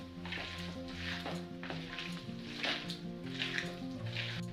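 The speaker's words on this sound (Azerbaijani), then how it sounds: "Hə, indi bunu qarışdırırıq." Seasoned minced meat for sour kebab is stirred and mixed in a pan, giving wet squelching strokes over a low sizzle, with recurring scraping bursts.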